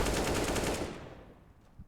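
Rapid automatic rifle fire in a Counter-Strike match on the Dust II map, a dense burst that rings loudly for about a second and then fades out.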